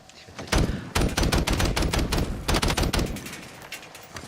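Rapid automatic gunfire rattles in Warzone, dense loud bursts of shots fired in quick succession with brief pauses, close and dominant.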